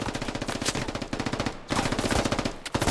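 Rapid machine gun bursts in the Squad military shooter, loud close rattling volleys broken by brief pauses near the middle and end, with no voices.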